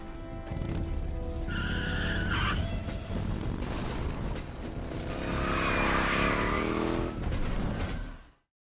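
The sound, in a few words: moped engine in Metal Gear Solid 3 video game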